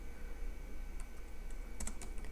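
Keys clicking on a computer keyboard as code is written, quiet steady tapping that becomes a quick cluster of sharper keystrokes over a low background hum.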